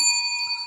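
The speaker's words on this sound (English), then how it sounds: "Let's ring the bell for that, actually." A single bright bell rings once with a clear metallic tone, sustaining and slowly fading over a short moment, heard alone.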